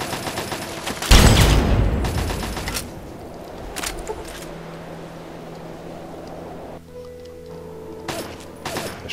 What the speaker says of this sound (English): I shoot him in the head.